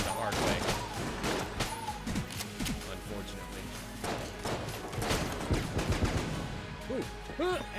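Rapid bursts of submachine gun fire in Enter the Gungeon, dense crackling volleys with thuds and impacts filling the whole stretch, loud and close, mixed with game sound effects and occasional talk.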